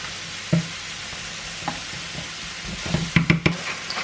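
Mushrooms and onions frying in vegetable oil, a steady low sizzle with a few soft stirring scrapes and clicks toward the end, close and fairly quiet with no voices.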